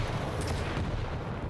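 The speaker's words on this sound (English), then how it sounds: "Oh, that was a big rocket as well." A heavy rocket explosion in the arena shooter Quake Champions during a competitive duel, a dense sustained rumbling blast with broad low boom and crackle, loud and close, with no talk over it.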